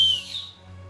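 A 3D-printed plastic whistle blown hard gives a brief, thin, high-pitched tone that fades after a moment, alone and fairly close.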